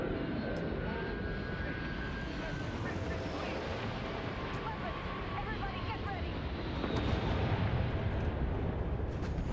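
A spaceship in the game Starfield arrives from orbit with a broad, rumbling roar that swells slightly toward the end, a dense continuous engine wash with faint higher whines and no clear speech.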